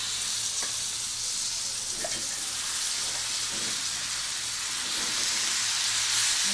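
Sliced eggplant sizzles steadily in a hot pan coated with spice masala for vangyachi bhaji, a continuous close frying hiss with occasional soft stirring scrapes and no talking.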